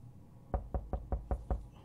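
Six evenly spaced knocks on a door in the game 60 Seconds, firm dull thuds at a steady quick rhythm, close and clear with no speech over them.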